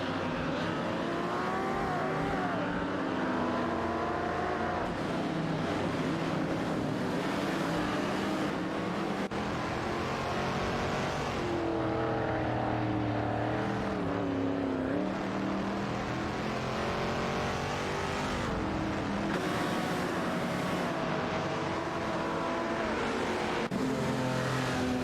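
A Chevrolet Corvette C3 and a Holden Torana race around a track in a racing video game, engines droning and revving continuously with repeated pitch sweeps through gear changes, close and steady without voices.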